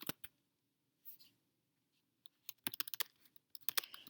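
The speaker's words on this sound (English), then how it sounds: "I'm just going to type that for you" Rapid bursts of computer keyboard typing, short clustered clicks with brief pauses between, close and fairly quiet with no talking.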